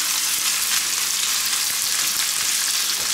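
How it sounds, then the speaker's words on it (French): Pork belly and potatoes sizzle steadily in a hot pan, a dense, even frying hiss with occasional soft stirring clatters, close and continuous with no voices. "on ajoute la poitrine, les pommes de terre. On fait revenir tout ça."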